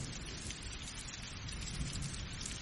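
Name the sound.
thunderstorm with rain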